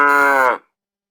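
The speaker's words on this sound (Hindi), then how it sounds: "गाय ने धीरे से रंभाकर" A cow gives a single soft, low moo, close by and alone, fading out after about half a second.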